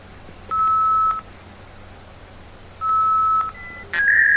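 A dial-up modem dials a telephone line: two long, steady touch-tone beeps separated by a pause, followed by a few short tones, loud and alone.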